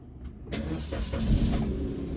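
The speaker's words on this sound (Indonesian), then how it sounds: "Nah, sekarang coba kita nyalakan mobil dulu." A 2016 Suzuki Karimun Wagon R 1.0 GS manual car engine starting, a brief starter crank catching at once into a steady, close idle hum.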